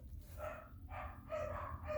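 Several dogs bark in short, repeated bursts at a moderate distance, fairly faint over a low background hum in an indoor craft workspace.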